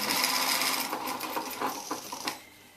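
A sewing machine runs steadily, stitching collar fabric pieces together along three sides, then slows with a few separate stitches before stopping; close and fairly quiet.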